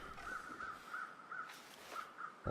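Crows caw in the survival game The Long Dark: a run of repeated, evenly spaced harsh calls at steady loudness, with a louder burst near the end, and no talk.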